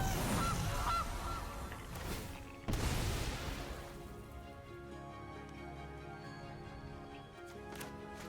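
A Gilded Goose card effect in the MTG Arena card game plays a couple of sharp honking goose calls, then a softer synthetic chime tail fading out, quiet overall with no speech.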